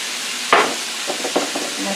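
A steak sizzles softly in olive oil in a pan, giving a steady low hiss with a sharp clatter near the start and a few faint scrapes and stirring sounds after it, with no talk.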